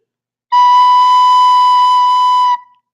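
One sustained recorder note B, loud and steady for around two seconds, then cut off cleanly; no voices accompany it.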